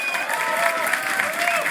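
A Mortal Kombat X tournament crowd applauds a player, dense steady clapping and cheering filling the space throughout, with voices mixed into the roar.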